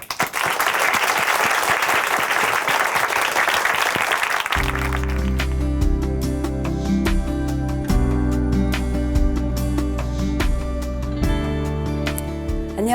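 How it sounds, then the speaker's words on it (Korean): Audience applause welcoming a speaker in a church, a sustained burst of clapping that gives way partway through to music with piano and bass under continuing claps. "박수로 모시겠습니다"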